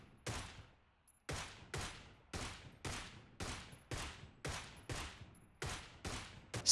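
A Groza rifle in PUBG fires about ten sharp single shots in a steady rhythm, each with a quick tail that fades away, played alone and fairly quietly without speech.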